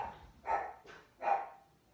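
A dog gives two separate barks about three-quarters of a second apart, moderately close and fairly quiet against a calm background.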